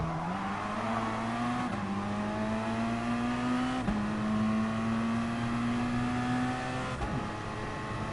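A GR3 race car laps the Fuji short circuit in a racing game, its engine droning steadily close by, climbing through the revs with brief drops at gear shifts, tires occasionally squealing.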